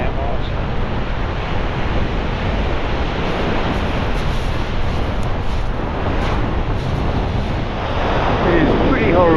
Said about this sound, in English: Cold and a really strong wind.